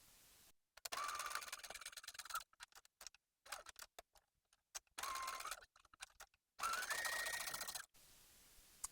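A sewing machine stitches the center front seam of a swimsuit in several bursts of rapid mechanical whirring separated by short pauses, close and fairly loud with no talk.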